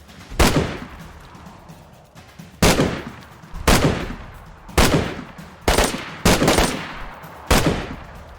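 Gunshots fired at zombies in a video game, seven loud, close, sharp shots at uneven intervals of roughly one second, each with a short decaying tail, and no talking.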